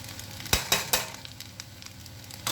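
Noodles and onions sizzle steadily in a wok while a few sharp scrapes and clanks of stirring stand out. The cooking is close and without talk.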